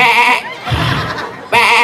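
A goat bleating loudly and close by, two long wavering calls with a short lower, rougher stretch between them, no talking over it.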